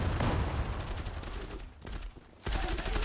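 Rapid bursts of automatic gunfire in a competitive first-person shooter match, loud and dense with overlapping shots, a brief dip in the middle before another burst kicks back in.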